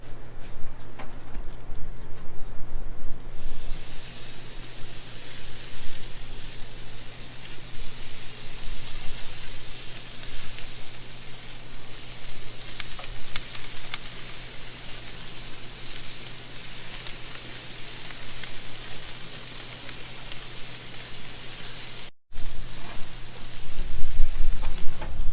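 Shrimp sizzle in a pan over a gas burner, a steady close hiss of frying that keeps going with no break, with a short cut near the end before the hiss comes back louder.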